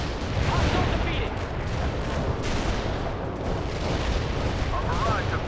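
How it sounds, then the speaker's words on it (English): Artillery barrage rumbling in the real-time strategy game World in Conflict, a dense continuous roar of blasts and booms with faint radio chatter mixed underneath. "Our barrage defeated the enemy."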